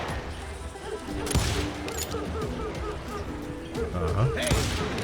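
Deputies' rifle and pistol fire crackles in rapid, overlapping volleys around a homestead in the Western shooter Call of Juarez: Gunslinger, loud and continuous with sharp bursts, while voices shout over the fighting.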